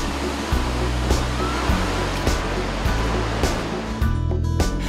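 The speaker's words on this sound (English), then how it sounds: "Hoi Long, or Bac Deo Waterfall, Ubon Ratchathani's largest waterfall" Hoi Long, or Bac Deo Waterfall, the largest waterfall in Ubon Ratchathani, roars as a dense, steady rush of falling water, loud and close, with no voices.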